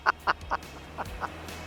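A duck quacks in a quick series of about five short calls, the first three louder and evenly spaced and the last two fainter, over a low steady background hum.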